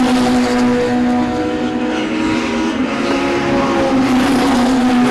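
Race cars battle for position on a circuit at a Passion for Speed event, a loud continuous layered engine roar with sustained droning tones throughout.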